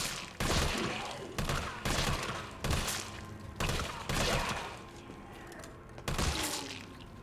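Gunfire from the Resident Evil 3 Remake video game on PC, a run of sharp shots fired at staggered intervals, roughly eight loud bursts, each with a ringing tail, against a steady game background with no talk.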